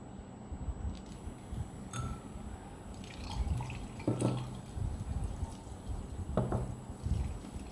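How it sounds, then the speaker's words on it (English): Alcohol trickles slowly into a hand sanitizer gel mixture while it is stirred, producing soft intermittent drips and light liquid clinks against glass, fairly quiet and close, with no talking. "add alcohol into the gel mixture slowly, while continue to stir to ensure gel is smooth and properly formed"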